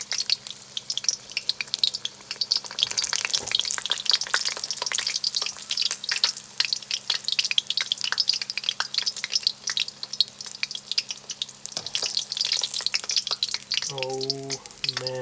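Egg rolls frying in hot oil, a dense continuous crackle and sizzle with constant fine popping, steady and close throughout, with a short voice near the end.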